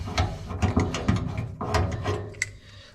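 A hand-operated rivet nut setting tool is wound back out during car body repairs on a Triumph TR7 V8 rally car. It gives a run of close, rhythmic ratcheting clicks and metallic turns, with no talk.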